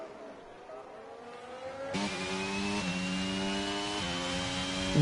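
Race cars lapping a track in a sim racing game set at Austria, engines droning in rising and falling tones, one car sweeping in loudly partway through and holding close, with no talk over it.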